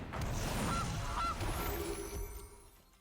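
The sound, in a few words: Gilded Goose honk in MTG Arena video game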